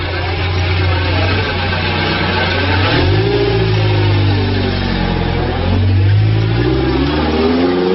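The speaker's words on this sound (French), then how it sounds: "nous n'avons enregistré que le passage de ces deux voitures" Cars roll past a crossing point at the port of Beirut, engines revving and rising as they accelerate close by, then fading, in a loud continuous engine drone.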